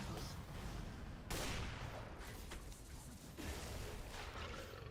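Sniper gunfire in an online multiplayer game, heard as sharp loud reports against a dense wash of in-game battle noise, with a strong burst near the start and another near the end.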